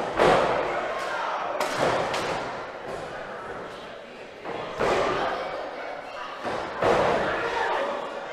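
Heavy slams and thuds as indie wrestlers are slammed onto Legos in the ring, several hard impacts spaced apart amid crowd noise and a talking commentator.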